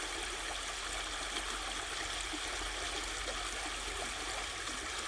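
A flowing stream makes a soft, continuous rush and trickle of water, quiet and even throughout, with no talking.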